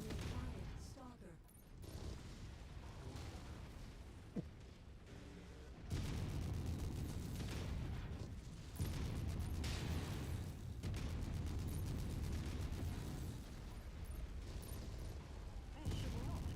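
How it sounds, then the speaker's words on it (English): Video-game combat with a loud run of explosions and artillery-like blasts, layered mechanical noise and a sharp impact near the middle, ending in sustained heavy booms; a voice speaks intermittently over it. "Incoming missile."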